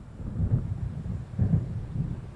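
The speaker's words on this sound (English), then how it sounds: "It seems there's a storm coming." Low rolling thunder from an approaching storm rumbles in several swelling waves, deep and steady, with no voices over it.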